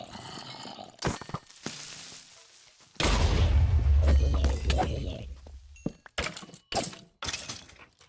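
A Minecraft creeper explosion bursts out loud and broad, sustaining a heavy rumbling blast for a few seconds, surrounded by scattered sharp in-game clicks and thuds before and after.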